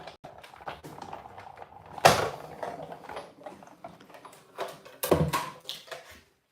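A hand-cranked die-cutting machine being run through, heard close as a series of creaks and clicks with two louder grinding surges of the rollers, no talk.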